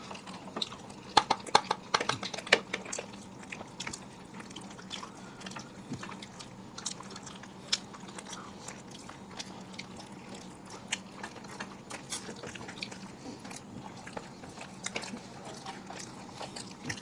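Someone eats spicy mutton biryani and Chinese chowmein up close, with faint, steady chewing, soft clicks and occasional utensil taps over a low room hum.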